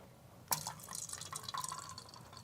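Wine pouring into a glass, a sudden splashing onset followed by a steady trickling, gurgling stream with faint glassy ringing, close and alone.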